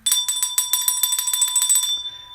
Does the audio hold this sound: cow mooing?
no